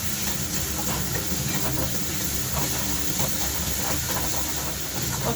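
Food sautéing in a pan on a home kitchen stove, a steady broad hiss and sizzle holding at an even level throughout, with no talk.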